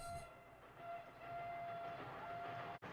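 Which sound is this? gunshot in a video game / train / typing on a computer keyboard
train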